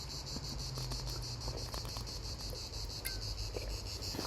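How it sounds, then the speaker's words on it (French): Cicadas chirp outdoors in a steady, dense drone, loud and continuous throughout, with a faint low hum beneath. "Il y a les cigales qui commencent à arriver."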